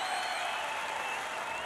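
A large crowd at a campaign rally in Iowa cheers and applauds in a dense, steady roar that holds at an even level throughout.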